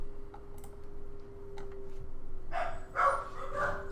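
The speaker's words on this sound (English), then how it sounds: "I don't know if you guys can hear those dogs, but they are going ballistic." Dogs erupt into a short burst of excited barking a few seconds in, faint and somewhat distant behind a quiet room hum and scattered clicks.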